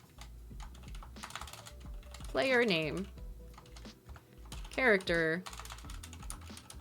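Light clicking taps on a computer keyboard, typed with freshly done nails, in uneven bursts close to the mic. A voice speaks briefly over the typing twice.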